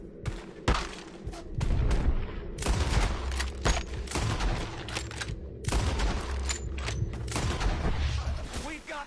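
Red Dead Redemption 2 shootout with enemies firing from the trees: a steady barrage of overlapping gunshots and booms, with shouting voices mixed into the fighting.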